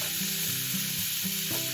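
Beef in tomato sauce sizzles and is stirred in a pan, a steady close frying hiss with soft scraping strokes of the spatula.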